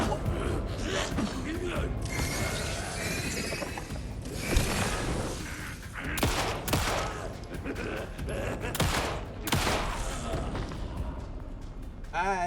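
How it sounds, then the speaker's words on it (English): Gunfire from Alan Wake II during zombie combat, sharp shots and crackling bursts scattered through a dense, busy game soundscape with creaks and mechanical clatter, steady and loud throughout. "I just shoot from the hip and I aim for the head."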